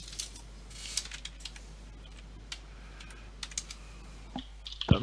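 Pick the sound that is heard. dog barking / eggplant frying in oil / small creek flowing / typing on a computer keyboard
typing on a computer keyboard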